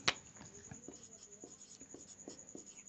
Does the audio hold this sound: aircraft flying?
no